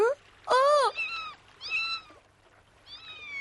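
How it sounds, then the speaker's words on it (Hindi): A small cat in a cartoon gives several short, high meows, one louder cry followed by softer plaintive mews with quiet gaps between them. "बेचारी छोटी सी बिल्ली।"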